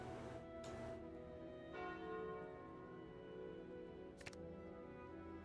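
A resonant bell chime sounds from a relic in a deck-building card game, a clear ringing tone with overtones that lingers and decays softly, with a couple of short clicks around it.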